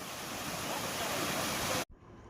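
River water at Mainpat rushes steadily close by in a continuous broadband wash, then cuts off abruptly near the end to a much quieter background.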